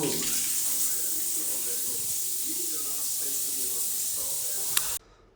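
Shower water runs steadily in a bathroom in China, a continuous close hissing spray with faint clatter underneath, cutting off abruptly near the end.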